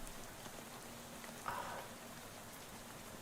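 Soft, steady rain falls at night in the video game Shadows over Loathing, a faint, even hiss with a brief slightly louder patch of patter midway, with no voices.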